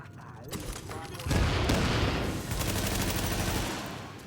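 Rapid bursts of automatic gunfire crackle and rattle in the video game The Division, dense and loud in overlapping volleys that swell and fade across the clip, with a brief voice beneath.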